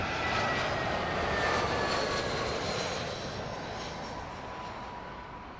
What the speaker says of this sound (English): That little short haul coming in hot onto the southern runway here at Heathrow.